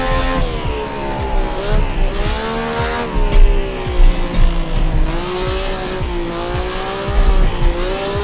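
Vintage classic GT sports car on a street track near Napoli, downshifting to third gear. The engine revs rise and fall in sweeping tones, with tire squeal and road noise under the loud, close, continuous roar.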